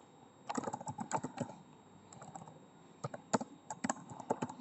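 Keys clatter on a computer keyboard as a company name is typed into an Excel sheet: irregular quick bursts of clicks separated by a short pause, close and clear, with no talking.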